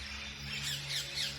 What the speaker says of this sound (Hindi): उसी में ये तोते भी सुबह सुबह गा रहे हैं मस्ती में।